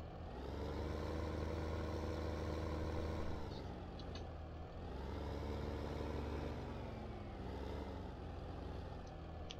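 A tractor or farm vehicle engine in Farming Simulator 15 runs at a steady, moderately loud idle for several seconds, its drone rising and falling gently in slow waves, with no voices.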